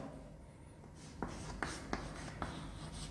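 Chalk or marker strokes on a board during a chemistry class, a handful of sharp scratchy taps spaced about half a second apart over faint room noise.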